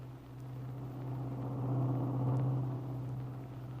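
A big car carries its passengers steadily back to Malibu, giving a low, smooth engine hum and road rumble that swells gently in the middle and stays even, with no voices.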